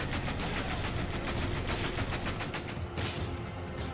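Rapid gunfire in Resident Evil 5, a dense continuous rattle of shots up close and loud, with a short gap near the end and no talking.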